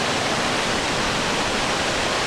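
River water at Tyler's Forks near Wren Falls rushes in a steady, loud, broadband roar with no pauses, close by and alone.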